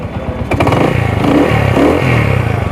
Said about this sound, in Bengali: তো ভিউয়ার্স দেখুন যে এবার সেলফ স্টার্ট একবারে হচ্ছে